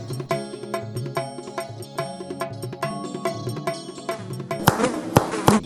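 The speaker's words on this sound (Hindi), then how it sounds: "इधर हाथ के चावल और थाली के चावल पर मक्खियां भिनभिना रहे हैं" Houseflies buzz over plain rice in a hand and on a plate, with a busy, fluttering drone and sharp flickering bursts throughout, growing denser and rougher toward the end.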